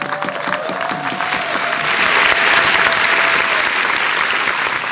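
Audience applause fills the room, a dense, steady clapping from a large crowd that swells slightly midway and continues throughout, loud and close, with no talking over it.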